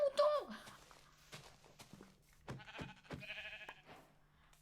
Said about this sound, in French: Un mouton!